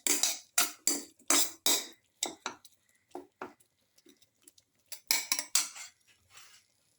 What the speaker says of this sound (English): Crush the tomato pieces.